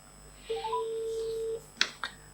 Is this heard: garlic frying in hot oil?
no